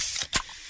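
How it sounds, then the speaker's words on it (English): A freshly opened can of Pepsi releases a sharp, short hiss of fizz, a single close spray burst that fades almost at once. "that's the sound of a freshly opened fizz-filled Pepsi"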